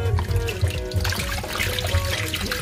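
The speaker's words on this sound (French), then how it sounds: "Nous allons bien les laver." Apples being washed in a basin of water, with steady close trickling and sloshing as the fruit is moved and rubbed, no talk.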